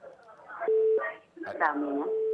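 A phone's incoming-call tone sounds in two steady bursts, separated and followed by close voices talking over the line, during a call-in on a family-advice talk show.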